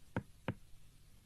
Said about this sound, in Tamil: எதுக்கு கதவை தட்டுற மாதிரி தட்டுறீங்க?